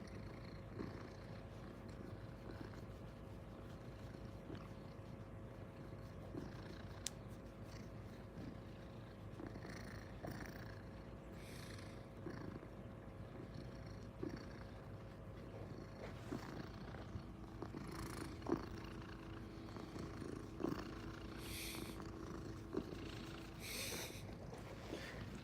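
A house cat named Simba purrs steadily and close for the whole stretch, a continuous low rumbling with faint rustles and small breathy snorts now and then, and no one speaking.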